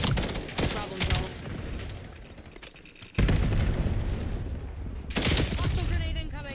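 Rapid gunfire bursts and booms in Black Ops 7 multiplayer, dense crackling volleys that swell loudly midway and continue in bursts, with a voice talking over the action.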